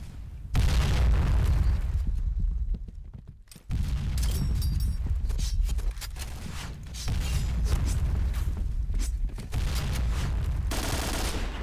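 Explosions and heavy gunfire in a shooter video game: repeated loud booms and bursts of weapon fire, with a brief lull before another barrage of blasts.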